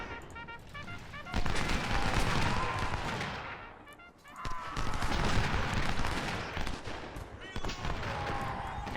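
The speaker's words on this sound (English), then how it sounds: "Looks like we've begun firing." Gunfire in a Civil War battle video game around Gettysburg, dense rolling musket volleys and crackling shots from many rifles, sustained and loud, with a brief lull midway.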